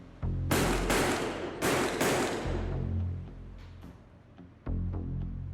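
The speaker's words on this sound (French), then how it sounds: "Il y a 4 détonations" Four heavy revolver shots from a large-calibre gun ring out loud and close in an audiobook scene set in the metro, falling as two quick pairs with booming tails.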